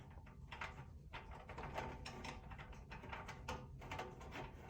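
A bolt is threaded loosely by hand into a glove box cart, giving faint, irregular metallic clicks and scrapes that come in short bursts close to the listener.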